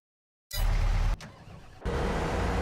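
A truck engine in the game Alpine Lake cuts in abruptly after a silent half-second, droning loud and close, dipping briefly and then surging back as it drives down the road.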